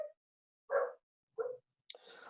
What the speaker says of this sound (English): hopefully you're not hearing my dog in the background